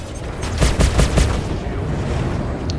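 A quick burst of four or five sharp weapon shots from a ship in Star Citizen, followed by a rumbling explosion tail as a missile strikes, loud and close with no talk.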